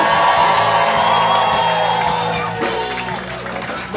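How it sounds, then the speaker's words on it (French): Church congregation erupting in shouts, whoops and cheers of joy for Jesus, a loud crowd roar with overlapping voices that softens slightly toward the end. "Est-ce que quelqu'un peut déjà pousser les cris de joie pour Jésus?"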